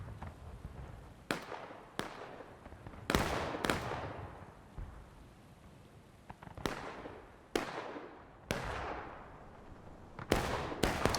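Artillery fire in a 200-player multiplayer battle game, eight or nine heavy booming blasts at irregular intervals, each with a long rolling decay, over a constant rumbling battlefield background.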